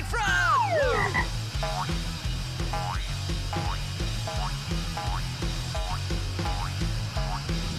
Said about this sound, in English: Giant climbing frog!